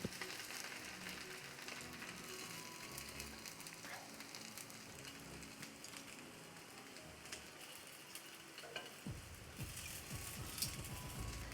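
Potato pieces shallow frying in hot oil for dum aloo, a steady close crackling sizzle running throughout, with a brief bump of pan handling near the end.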